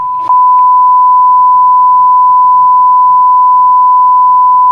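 A police radio sounds an urgent alert as a loud, sustained, steady pure-tone beep that holds unbroken after a brief click at the start.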